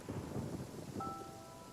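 Thunderstorm in the video game Genshin Impact: steady dense rain with a low rolling rumble of thunder, continuous and fairly quiet, with no voices.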